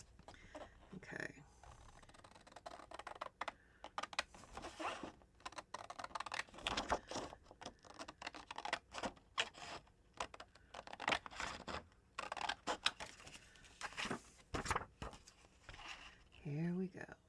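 Scissors snipping through paper for a craft project, with many short crisp cuts and rustling paper throughout, close up and fairly quiet, while someone talks at times.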